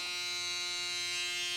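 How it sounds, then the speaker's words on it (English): A foil shaver runs steadily during a burst fade haircut, giving a continuous high electric buzz with a strong tonal hum that holds even and unbroken from start to finish, with no talking. "I'm actually going to use a foil shaver."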